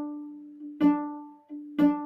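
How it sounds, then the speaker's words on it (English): A cello sounds a bowed D note played with four fingers on the A string, two sustained strokes with a clear pitched tone, each swelling and fading. "4 fingers on the A string makes your D sound like this."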